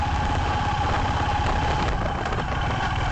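A Honda Highness CB350 motorcycle engine runs in a steady, continuous rumble, sounding loud and close with no pauses.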